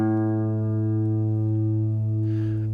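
A single plucked guitar string rings out on the note A, its steady sustained tone slowly decaying, with a brief noisy touch near the end.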